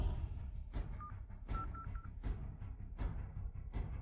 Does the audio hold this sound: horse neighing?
no